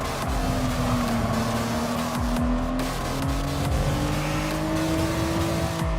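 A race car in a video game community race, a steady engine drone with shifting pitch as it accelerates and downshifts, tires squealing intermittently, loud and close throughout.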